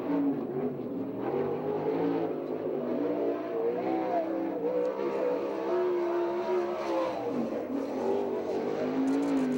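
A 410 non-wing sprint car howls around a dirt track in Victorville, its engine roaring loud and steady with rising and falling pitch as it works through a lap, no talk over it.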